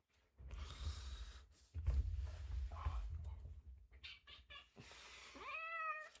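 A house cat meows near the end, a short rising-and-falling call after faint rustling and low background rumble, with a quiet voice murmuring briefly earlier.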